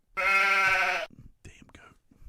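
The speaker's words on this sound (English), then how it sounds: "That was a goat." A goat gives one loud, close, wavering bleat lasting about a second, followed by faint murmured voices.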